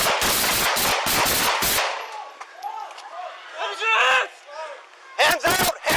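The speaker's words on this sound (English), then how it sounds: "Shots fired!" A rapid burst of close, loud gunshots erupts during a police shooting, heard from a bodycam. Shouting voices follow, then more sharp cracks near the end.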